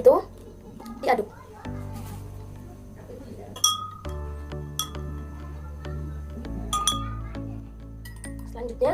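A spoon stirring vinegar in drinking glasses during a home chemistry experiment, giving several sharp, bright clinks against the glass in an irregular rhythm, close by, with a voice and other talk in the background.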